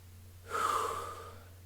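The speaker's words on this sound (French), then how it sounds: "je suis essoufflé mais pas détendu" One heavy, gasping exhale rises sharply and trails off over about a second, close and loud: someone out of breath after a home workout of quick footwork and sun salutations.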